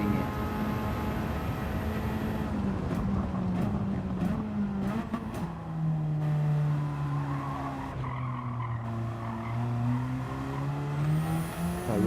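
A Radical race car in Gran Turismo 7 running on sports hard tyres, its high engine note rising and falling through gear changes with tyre squeal, loud and steady throughout.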